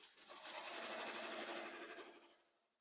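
A sewing machine stitches in a quick, even run that swells up and then slows to a stop, faint and close, with no voices.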